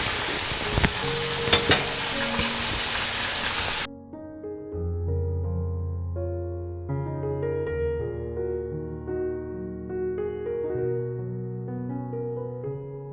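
Oil and a stock cube simmer together in a pan for a few seconds, a loud close crackling sizzle with faint clinks, before it cuts off and gentle music takes over.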